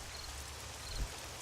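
Steady rain falls at night in the game 7 Days to Die, a dense even hiss without a break and one slightly louder patter near the middle.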